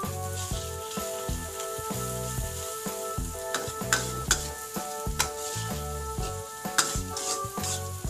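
Sausages frying in a pan sizzle loudly and continuously, with rhythmic scraping and stirring strokes and occasional sharp clinks of a utensil against the pan.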